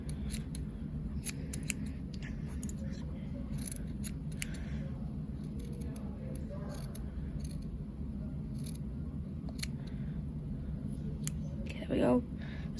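Scissors snip through fabric pieces for a plush pig's ears, a steady run of close, crisp cuts over a low background hum, with a brief louder rustle near the end.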